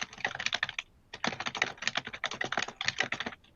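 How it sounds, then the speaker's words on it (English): Fast, uneven typing on a computer keyboard while a chart title is entered, with dense bursts of crisp key clicks and one short pause, heard close and with no talking. "And forgive my typing"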